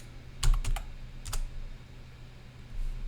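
A few quick bursts of typing on a computer keyboard, close and clear, with short clusters of keystrokes separated by pauses over a faint steady hum.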